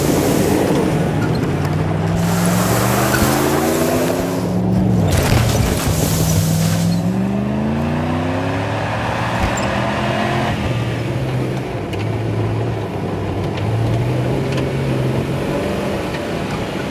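A car engine driving steadily along, a continuous mid-pitched drone with shifting engine tones rising and falling as it moves, loud and unbroken throughout.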